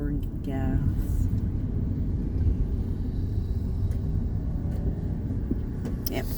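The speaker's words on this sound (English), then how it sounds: "I'm going to pull into a parking spot here real quick" A car pulling into a parking spot, heard from inside the car as a steady low engine and road rumble that continues under a man's speech.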